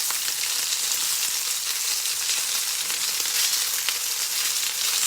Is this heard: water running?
no